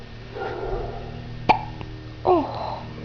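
A baby gives two short, sharp hiccups about a second apart, close and clear against a quiet room with faint background murmur.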